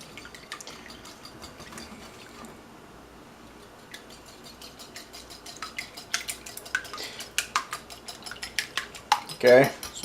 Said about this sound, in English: You want to beat your eggs before you put them in.